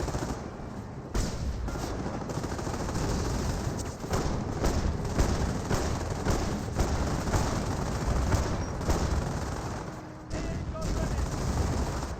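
Battle sounds from the game Company of Heroes 1: sustained loud bursts of gunfire and artillery crackle in a dense, continuous barrage with brief drops, mixed under game audio.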